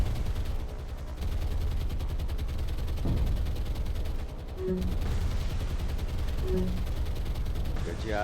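Sustained anti-aircraft gunfire in the naval combat game War on the Sea, a dense continuous barrage of rapid firing under a heavy rumbling bed, with short alert tones sounding over it.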